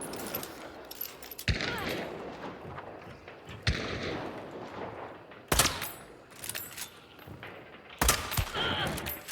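Video-game gunfire during a stream: loud, sharp shots fired in irregular bursts, with several sudden cracks standing out over a busy, noisy background.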